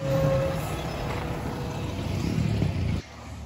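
Heavy road traffic at the corner of a main highway in Las Terrenas, with a truck or bus engine rumbling loudly nearby. The rumble holds steady for about three seconds, then drops off sharply to a quieter background.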